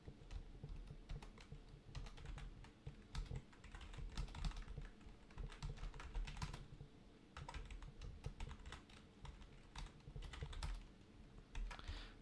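Steady keyboard typing while a code comment is written in Matlab: quiet, continuous clicky keystrokes in uneven bursts with brief pauses, no voice.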